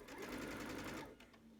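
A sewing machine runs a brief burst of back stitching on a pillowcase seam, a quick, quiet close-up rattle that stops after about a second, followed by faint light clicks.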